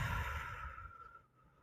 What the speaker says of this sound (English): Inhale and hold, and then slowly exhale that breath.